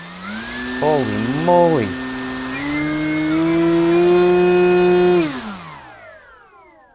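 Skynetic Havok Racer 1000mm RC jet's electric ducted fan spools up to a loud, steady high-pitched whine, holds for several seconds, then winds down, with a short excited exclamation heard early on.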